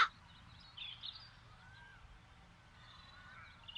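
Crows caw in The Dark Eye: Chains of Satinav, a few faint, scattered calls heard at a distance over a quiet, hushed background.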